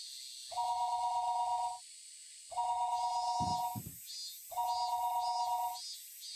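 A telephone rings in the visual novel game Higurashi When They Cry Hou: three evenly spaced, steady electronic double-tone rings about two seconds apart, with a short thump between the second and third over quiet background music.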